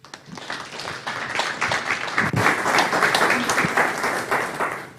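An audience bursts into applause to welcome speaker Jonathan Moreno at a university lecture, the clapping swelling quickly and holding dense and steady before easing off.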